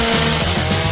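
A saw cutting through everything drones steadily at close range, loud and continuous with a low motor hum, and no talking.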